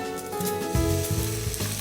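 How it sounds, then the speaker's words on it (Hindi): Water poured onto cumin, coriander and turmeric powder frying in a pan, a sharp sizzle that swells as the water hits and keeps hissing steadily, with faint tonal sound running underneath. "इसी के साथ हम डालेंगे थोड़ा सा पानी ताकि मसाले जले नहीं।"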